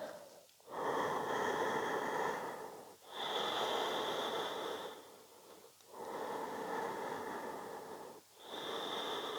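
Slow, deep breaths during a vinyasa yoga practice, each long airy inhale or exhale rising and fading in a steady rhythm with brief pauses between, close and clear.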